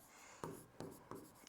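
Chalk taps and scratches on a classroom board in three quick, even strokes, close and soft over a faint room hiss.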